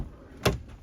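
The rear door of a 2019 Ford Focus 1.5T EcoBoost Active X opens with a single sharp latch clunk, close by over a steady outdoor background hiss.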